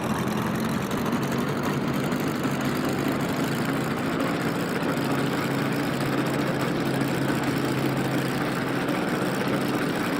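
A small propeller airplane's engine idles steadily while the plane zigzags along a taxiway. A constant, close, unbroken drone with a low hum runs throughout, with no voices over it.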